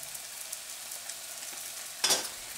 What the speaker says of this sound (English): slide your spatula under and then just carefully turn them over so that you don't break the yolks on the other side